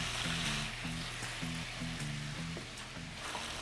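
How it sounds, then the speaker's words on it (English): Chicken pieces frying in hot oil for crispy orange chicken, a steady broadband sizzle that runs continuously throughout, close and moderately loud, with a low intermittent hum underneath. "I'm gonna fry these, get them nice and crispy, nice and golden brown"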